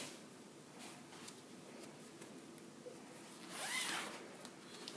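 A zipper on a sewn jumpsuit is pulled in one quick, close stroke near the end, standing out against faint room hiss.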